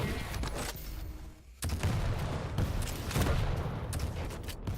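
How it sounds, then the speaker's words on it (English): Rapid machine gun fire in a Quake-style duel match, a dense loud continuous fusillade of shots with overlapping bursts and impacts filling the whole stretch, close and harsh. "The machine gun is good as well from Cypher."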